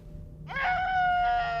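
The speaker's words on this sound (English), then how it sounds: "The screaming is so close." Monster scream in a horror video game: a sustained, wavering, high-pitched shriek that swells in suddenly after a quiet low hum and holds at close range.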